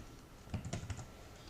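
Brief burst of typing on a computer keyboard entering a name, a handful of quick soft keystrokes in a short cluster, close and fairly quiet, with no talk.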